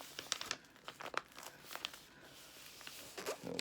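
Junk mail envelope paper being gently folded by hand, with soft crinkles and a few sharper crisp rustles scattered through a quiet, close-up stretch.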